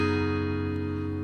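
An acoustic guitar in drop D tuning with a capo on the fourth fret rings out a sustained strum that holds steady throughout, close and fairly loud with no voices.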